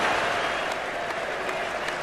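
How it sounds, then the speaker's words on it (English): The Edgbaston cricket crowd at an England versus Australia Ashes Test roars and applauds a wicket, a steady wash of clapping and cheering heard from a distance. "Huge roar from the Edgbaston crowd."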